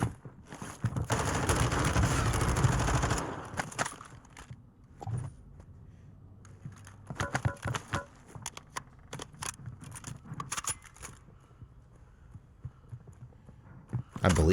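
Gunfire in the video game Warzone 2 on the Al Mazrah map: a dense burst of automatic fire at first, then scattered sharp shots and short volleys, with people talking in between.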